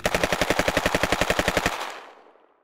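Machine gun fire right after a shouted command, a fast steady burst of around twenty close, loud rounds that stops abruptly and leaves a fading echo.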